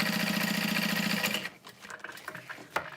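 A sewing machine top-stitches a leather bag at a long stitch length, its fast even mechanical hum running for about a second and a half, then stopping into faint clicks and handling noises, close up.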